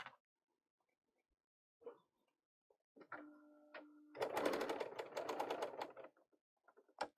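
A Bernina L890 serger running a 4-thread overlock stitch at 2.5 stitch length, a near, steady mechanical whirr for roughly two seconds. A brief slower hum and a few faint clicks and handling noises come before it.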